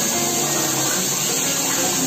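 Water pouring and splashing steadily while a child is bathed, a loud continuous rushing hiss with no voices.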